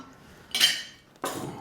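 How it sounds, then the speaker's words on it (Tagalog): Plates set down on a table at home: two separate clinking, ringing knocks of dishware about half a second apart, close and fairly loud, with no talk. "Lagyan natin ng mga plato."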